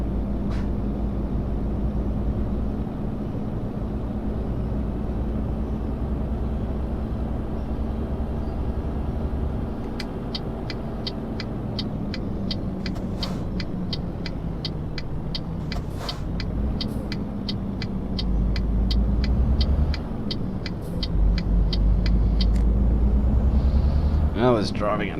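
Truck driving at night in Euro Truck Simulator 2, a steady low engine drone and rumble with shifting pitch, a series of clicks partway through, and the engine rising louder near the end.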